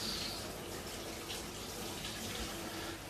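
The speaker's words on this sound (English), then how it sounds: "this is pineapple and raspberries. So we are going to just pour this into the glass" A thick pineapple and raspberry smoothie is poured into a glass in one steady, continuous liquid rush, faint but close, with no talk.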